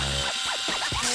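A cartoon power drill whirs against a doll's tangled, dirty hair, giving a short burst of buzzing mechanical whine with rising and falling pitch, loud and close, with no talking.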